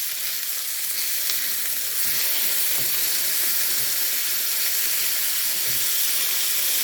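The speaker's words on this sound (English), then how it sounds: "So I'm just going to go ahead and flip these." Smashburgers with onions sizzling loudly on a hot griddle, a steady dense hiss of frying fat with faint scraping taps, no voices.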